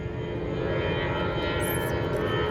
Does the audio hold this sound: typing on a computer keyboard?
no